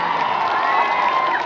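A large crowd at a political rally on a packed open ground cheers and shouts continuously, a dense, loud roar of many voices with no breaks.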